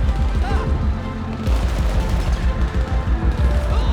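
Rapid gunfire in a GTA 5 zombie survival apocalypse session, loud and sustained bursts of shots crackling across the whole stretch with a voice talking over them.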